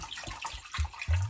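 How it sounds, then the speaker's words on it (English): Spring water poured from a bottle into a pot of solyanka soup, a short splashing gush of liquid heard close up, with a few brief surges and no talking. "why am I pouring water from a bottle?"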